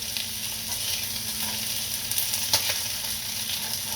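Butter melting and sizzling in a frying pan beside pan-seared tilapia, a steady, close crackling fry with a few brief louder pops, no talking.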